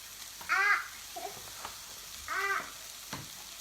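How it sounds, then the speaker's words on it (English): Eggs for a two-egg omelet sizzle in a pan, a soft steady fry under two brief, louder tonal bursts that sound like a voice. "now I'm going to crack my eggs"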